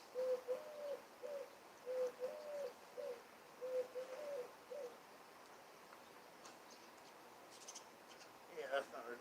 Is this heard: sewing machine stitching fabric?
no